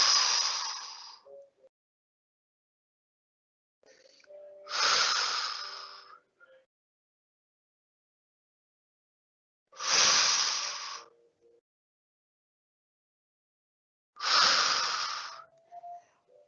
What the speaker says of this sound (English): Take a nice full exhale into it and an inhale out